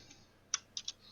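Three crisp keystrokes on a computer keyboard while numbers are entered, one single press then a quick pair, clicking faintly over a quiet room.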